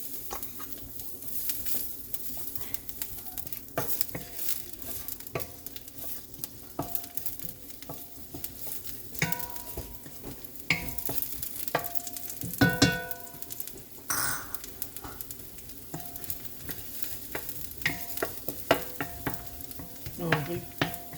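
Garlic fries in hot oil in a wok for pansit bihon, a soft ongoing sizzle under frequent utensil clinks and stirring scrapes, close and moderate, without speech.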